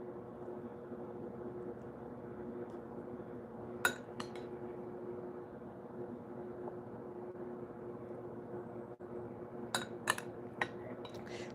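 A metal spoon clinks against a dish while eating stuffed manicotti, a few sharp isolated taps over a steady low hum, close but quiet.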